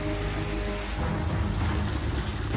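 A storm with steady heavy rain pouring on surfaces and a low rumble of thunder rolling underneath, loud and continuous, with no voices.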